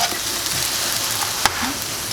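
An egg frying in a pan over medium-high heat gives a steady, close sizzle with soft crackles throughout, plus one sharp click partway through.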